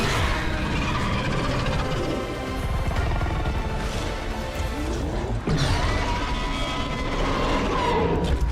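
Enchanted ballista bolts firing in a video game battle, a dense, continuous barrage of mechanical clanks and crashing impacts over a loud, busy game soundscape, with a sharp burst of crashes partway through.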